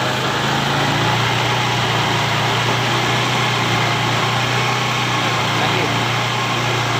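A Honda Beat Pop scooter runs with its CVT opened up, a loud, steady engine drone that holds an even pitch, with voices talking over it.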